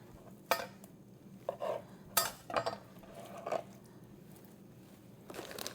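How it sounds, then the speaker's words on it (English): A knife slices a ready-trimmed chicken breast into bite-sized pieces on a board, giving several sharp, irregular knocks and scrapes close by, with quiet pauses between cuts and no talking. "I'm just cutting into bite-sized pieces"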